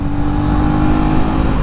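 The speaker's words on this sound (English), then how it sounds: "when you are literally pushing the motorcycle, this engine towards its red line" A 2024 KTM Duke 250 motorcycle engine revving hard toward its red line, a steady, loud, continuous drone with a buzzing tone held throughout, close to the microphone with no talking.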